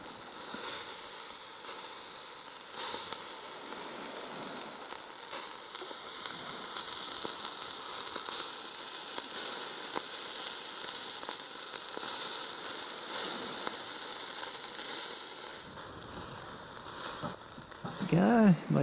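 Sausages and capsicum frying for dinner at a tropical island campsite, a steady close sizzle and hiss throughout, rising a little louder near the end.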